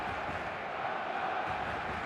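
Stadium crowd in the eFootball mobile game, Barcelona match day: a steady, dense roar of cheering fans, held at an even level throughout with no break or single standout shout.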